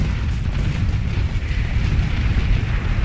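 Loud, continuous roar of missiles launching, a dense low rumble with rushing noise that holds steady for a few seconds, with no talk over it.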